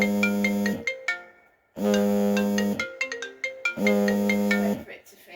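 A phone ringtone plays a bright, repeating melodic phrase, loud and close, in three bursts separated by short pauses, with a single voice talking in between.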